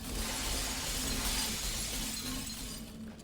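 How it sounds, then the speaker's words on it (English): Glass shattering in the video game Portal 2: a loud, sustained crash of breaking glass with dense tinkling that lasts about three seconds before it begins to fade, with no talking. "And now there's broken glass and repulsion gel everywhere."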